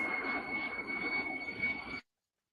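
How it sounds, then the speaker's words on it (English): Big planes passing over near an airport, a loud, steady roaring rush with a high whine that holds for about two seconds and then cuts off abruptly. "planes are coming by"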